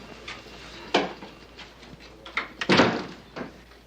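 An office door closes in a 1980s police drama, with several dull thuds and scrapes of handling and then a louder close followed by a lighter knock, all close by.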